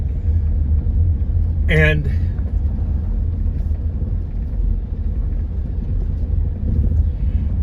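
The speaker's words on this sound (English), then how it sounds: "the car just popped out of nowhere there" A car passing by in darkness, heard as a steady low rumble with a louder swell. A voice briefly talks over it.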